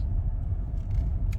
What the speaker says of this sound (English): The removal truck right there is on the job